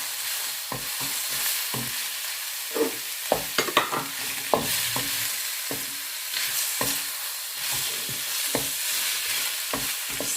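Pre-boiled chicken is stir-fried for pancit, a soft steady sizzle broken by repeated scraping and clacking of a utensil against the pan at an irregular rhythm, with no talking.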